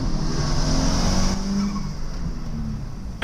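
A small turbocharged JDM car and a rival launch off the line in a drag race with some wheel spin, a loud steady engine roar that shifts pitch midway as they accelerate away.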